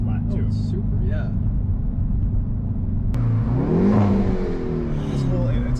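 Hyundai Veloster N engine revving from inside the cabin, a steady engine drone that swells into a rising and falling rev midway, loud and close, with people talking over it.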